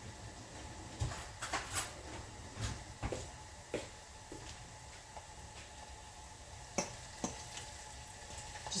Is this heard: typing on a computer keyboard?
no